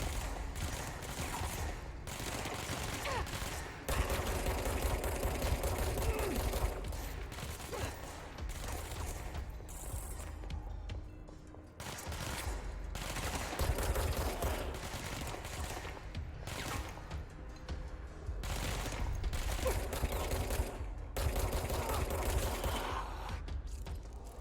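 Gunfire in the video game Control, with rapid repeated shots and mechanical clatter in dense bursts over a low rumbling background, all heard at a faint overall level.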